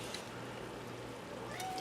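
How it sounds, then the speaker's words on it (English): Pet cat named Oreo meowing indoors in a kitchen during cooking, a faint short cry under low room noise. "You've already seen the kitty cat."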